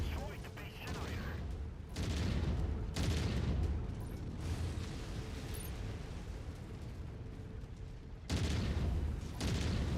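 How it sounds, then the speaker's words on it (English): Autocannons fire in burst mode in the game MechWarrior 5: Mercenaries, making a heavy, rumbling barrage that comes in long, loud blocks with brief dips in between. "I set the ACs to a burst fire"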